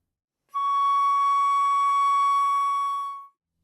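A flute sounds a single sustained C sharp in the second octave, steady and clear for about three seconds before stopping, alone with no talking.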